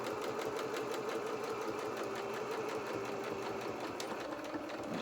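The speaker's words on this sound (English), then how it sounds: "we're going to sew this right back to where we started" A sewing machine stitches a doll's leg in a fast, steady mechanical whir that runs without a break, close and even, with a brief change near the end as it slows.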